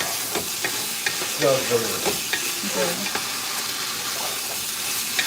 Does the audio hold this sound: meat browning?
yes